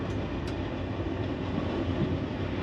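French overnight sleeper train rolling along, a steady low rumble and rattle of the carriage with faint clicks, continuous and fairly loud, no voices.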